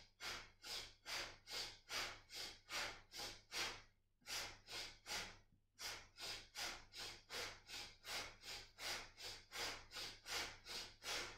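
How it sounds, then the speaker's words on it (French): Powerful rhythmic Kundalini yoga breathing, a steady string of forceful breaths through the nose about twice per second. The breaths are loud and close, with one short pause partway through and no talk. "Donc respiration puissante"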